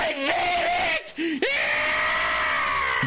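A man screams and yells in agony while burning, a dramatized effect with wavering, strained cries that break briefly before rising again into a long sustained howl, loud and close.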